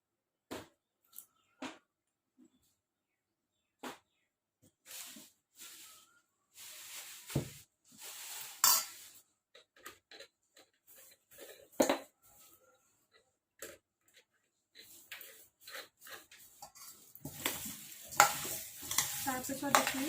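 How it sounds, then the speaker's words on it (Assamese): A spoon scrapes and stirs a mixture with vinegar and sugar in a pan, producing scattered clicks and scrapes that grow into busier, louder stirring with a soft sizzle toward the end. "তাৰপিছত এইখিনি এনেদৰে ভালকৈ মিক্স কৰি দিম।"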